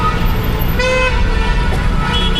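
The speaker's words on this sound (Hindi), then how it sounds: "ट्रैफिक तो बहुत ज़्यादा लगा हुआ यहाँ पे, बस एक बार रुके तो रोड क्रॉस कर लूँ।" Horns toot over the steady rumble of heavy road traffic on a busy street, one sustained honk standing out near the middle above the constant engine drone, loud and close.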